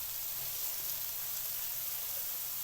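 Onions fry in a pan for a potato karahi, producing a faint, steady sizzling hiss with no voices.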